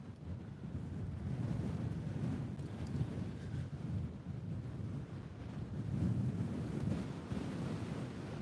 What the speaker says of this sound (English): is the wind ever coming down this little trough here?